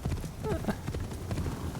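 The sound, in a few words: horse hooves clip-clopping, from video game Assassin's Creed Shadows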